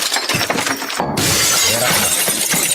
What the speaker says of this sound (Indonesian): Terus semua pecah, guci semua pecah piringnya.